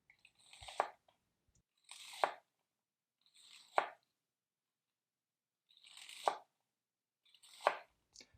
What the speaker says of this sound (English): And then we're going to thinly slice all the way through the leaves and stems on this.